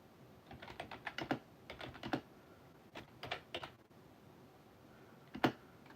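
Keys on a computer keyboard clatter in short bursts of slow, halting typing, quiet and close, separated by pauses.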